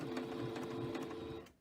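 A sewing machine runs close by while hemming fabric with a back stitch, a fast, even mechanical whir with a slight rhythmic clatter that slows and fades out at the end.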